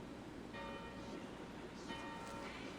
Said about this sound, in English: Do you not hear the bells?